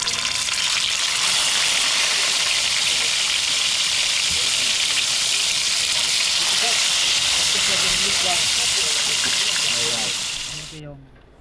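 Fish grilling over an open fire, a steady loud hiss and sizzle running unbroken for about ten seconds before fading out, with faint talk underneath.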